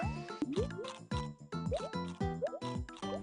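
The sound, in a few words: Yoshi blowing bubbles in a Nintendo Wii U Mario video game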